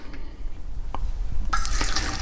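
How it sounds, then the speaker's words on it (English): Water runs from a tap into a seed-starting soil mix container, a faint trickle at first that swells into a louder, steady splashing stream partway through. "put a little bit of water in there"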